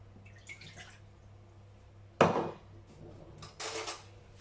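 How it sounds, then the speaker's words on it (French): A glass of water tipped into a cooking pot in a home kitchen while preparing roast leg of lamb: a brief splashing pour with faint clinks, followed moments later by a second short burst, close by, with no talk. "Pour commencer, je mets le verre d'eau."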